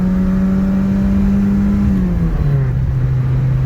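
A Volkswagen Polo engine revs steadily up through the gears, one loud sustained drone climbing in pitch, dropping briefly at a shift, then pulling again, close up with no talking.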